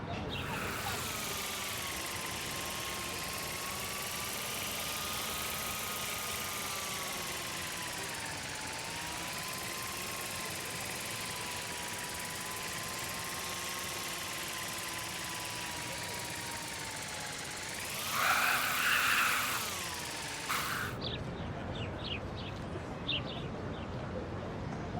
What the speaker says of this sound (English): Here, give the drone a whirl around campus.